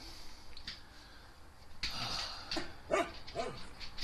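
A dog barks indoors, a few sharp, fairly close barks and yips coming in short bursts over a quiet room background, with no talking.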